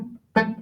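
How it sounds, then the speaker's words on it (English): A cello's A string plucked while a finger touches it, a muffled, dull pluck that dies away quickly, heard close after a brief softer tone. "If you're touching the A string with the finger, it'll sound like this."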